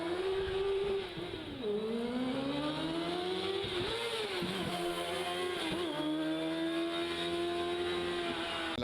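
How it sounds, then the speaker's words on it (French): Race cars at a hill climb event, engines revving hard and rising through the gears, dropping and climbing again between shifts, loud and close, with outdoor background noise. "les coureurs automobiles ont fait leur retour sur le bitume avec la course de côte de Café hier"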